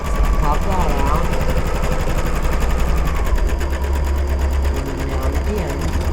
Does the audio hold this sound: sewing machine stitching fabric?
yes